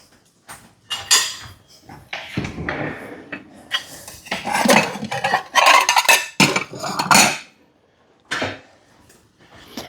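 A plate is pulled out and handled among dishes and cutlery in a home kitchen, giving a busy run of clinks, clatters and scrapes close by, with short pauses between bursts.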